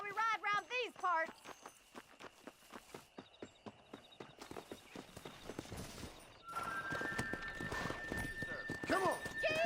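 A horse in the western game Red Dead Redemption whinnies, then its hooves pound out a quick, rhythmic clip-clop gallop close by, followed by a louder rush of riding noise with voices speaking.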